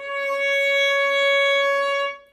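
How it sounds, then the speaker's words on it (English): A violin sounds a single C sharp, stopped with the second finger on the A string, held as one steady, clear bowed note for about two seconds before fading. "And then the C sharp is second finger on the A string, and it sounds like this."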